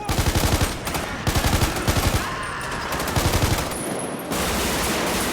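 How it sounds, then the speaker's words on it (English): Bursts of automatic carbon rifle fire with modded, heavier gun sounds in GTA 5, several loud rapid volleys separated by brief pauses, followed by a steadier roar of continued shooting toward the end. "My favorite has to be the carbon rifle. Combined with the new sounds, it reminds me a lot of that one shootout"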